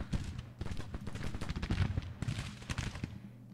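Massed musket and cannon fire from a Civil War battle in the strategy game Grand Tactician, heard as a rapid crackling volley of overlapping shots, dense and ragged, close and fairly loud, with no talk over it.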